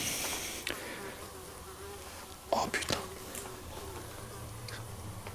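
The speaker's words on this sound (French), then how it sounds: "C'est une grosse mouche." A big fly buzzes steadily close by inside a dilapidated dining room with a fireplace, its drone continuing throughout while a man's brief exclamation and a couple of soft knocks break in partway.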